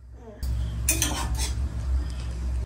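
Pots, pans and utensils clink and clatter close by as a mother cooks crab early in the morning, with a low steady hum underneath and bright bursts of metallic knocking near the start.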